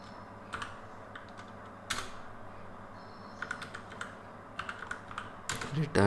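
Keystrokes on a computer keyboard while code is typed, quick scattered clicks in short bursts with pauses, close and moderately loud over a steady low background hum.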